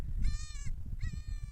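Goat kid bleating twice in clear, wavering cries near a flock, with low rumbling background noise beneath.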